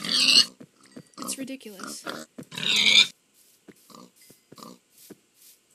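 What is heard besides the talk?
pigs oinking in a video game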